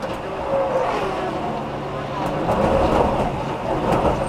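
Onboard the Chip Ganassi 02 prototype at the 2011 Rolex 24 at Daytona as a tyre fails: a loud, steady engine drone with broadband road and wind roar that swells slightly partway through.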